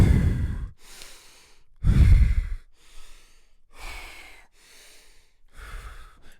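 Slow, deep breaths during a breathing exercise: several long, audible inhales and sighing exhales in a quiet room, close to the microphone, with pauses between them and no speech.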